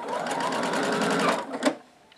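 A sewing machine stitches quilt rows at a quarter-inch seam, running in a fast, steady mechanical whir for over a second before slowing, clunking once, and stopping.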